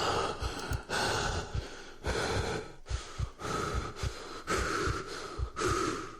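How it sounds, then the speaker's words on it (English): Rapid, panicked breathing from a character in the video game The Last Door: close, ragged gasps and snorting inhales in a quick, uneven rhythm, repeating steadily with no talk. "You're breathing way too fast, man."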